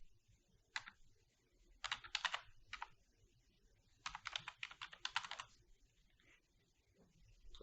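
Bursts of quiet computer keyboard typing while renaming a level sequence in Unreal Engine 4, rapid clustered keystrokes with pauses between, close and soft with no talk.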